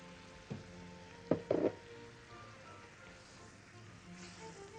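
Whisked yogurt going into a pan of partly cooked potatoes, giving a couple of short, sharp sizzling bursts over a quiet background of gentle frying, with no one talking.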